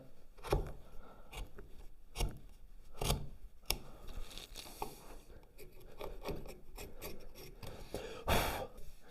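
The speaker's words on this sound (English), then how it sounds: "we're going to go into that knife line and just do a little undercut down to the bottom" Knife paring an undercut into wood along a marked knife line for a dovetail halving joint, a series of close, scratchy rasping cuts and short scrapes in an irregular rhythm, with no talking.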